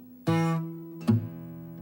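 Two plucked acoustic guitar notes, each ringing with a rattly buzz where a string frets out against the fret, the first held longer and the second shorter and slightly sharper, alone in a quiet room.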